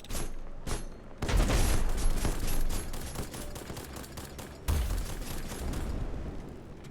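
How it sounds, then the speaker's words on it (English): Sustained video game gunfire, rapid automatic shots blowing holes in a spaceship, roaring loudly in two long bursts with a short gap between them. "Stop blowing holes in my ship."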